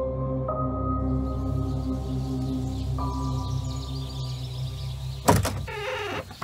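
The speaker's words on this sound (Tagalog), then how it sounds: "Kaagad akong bumangon, noon naman bumukas ang pintuan." A door in a rural house opens in a single close, loud creaking swing with a rattle, breaking out of a steady low ambient hum with faint tones, standing alone with no voices.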